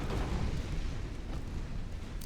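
13-inch naval guns fire in Ultimate Admiral Dreadnoughts, giving a deep, rumbling, sustained boom that fills the whole moment with low, heavy roar and no talk.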